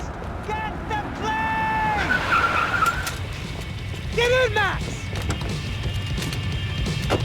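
Car skidding and revving during a getaway drive in the video game Max Payne 3, with tyre squeals and engine tones over a steady rumble and shouted dialogue.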